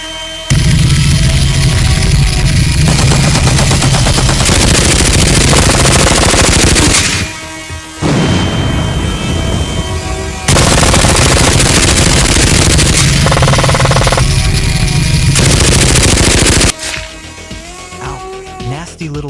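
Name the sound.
big gun firing in a video game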